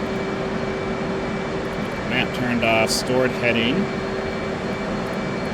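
An F/A-18 Hornet in DCS World drones with a steady, whining jet engine hum and cockpit air noise as someone speaks over it, with a few brief electronic beeps and clicks mixed in.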